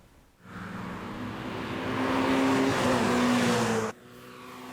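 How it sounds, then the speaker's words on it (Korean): Race cars practicing before qualifying at a motorsport festival on a Korean F1 circuit, with a loud engine roar that swells up as a car approaches and holds steady, its tone shifting, then cuts off abruptly. "모터스포츠 페스티벌에 참가한 선수들이 예선을 앞두고 연습 경기를 하면서 실전 감각을 끌어올립니다"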